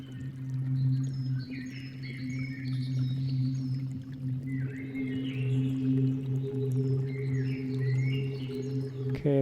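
A synth pad preset called Bird pad: low sustained drone tones under a wash of airy texture, with repeated chirping, warbling bird-like calls gliding above for about nine seconds, moderately quiet.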